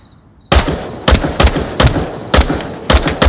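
Gunshots crack in the VR shooter Onward during close-quarters room clearing: seven loud, sharp shots in a loose, uneven rhythm, some in quick pairs, after a brief near-silent moment, with no talk.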